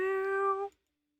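A small kitten in a video game gives one clear, drawn-out meow, close and tonal, lasting under a second before falling to silence.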